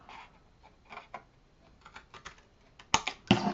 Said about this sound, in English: So in this case, we're going to cut on the score line